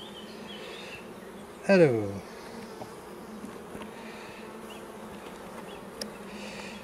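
Honeybees buzz around an open hive while a swarm is inspected and the queen is marked. A faint steady hum runs throughout, broken by one loud, close bee buzzing past, and a single spoken word is heard.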